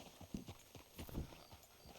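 A horse's hooves clip-clop at an easy walk in the Red Dead video game, with soft uneven beats that are quiet and slightly muffled against a low background.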